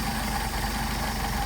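A Mercedes 190SL engine with rebuilt Solex carburetors idles steadily up close, a dense, even mechanical rumble throughout with no voices.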